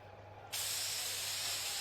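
A medical spray can from the Inazuma Eleven video game lets out a sudden, steady hiss that starts abruptly after a short quiet moment and continues evenly at a moderate level.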